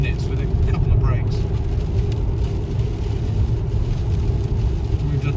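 A 2022 MG ZS EV electric car drives on the road at 30 to 40 mph, a steady low road and tyre rumble filling the cabin with a faint higher whine, while people talk over it.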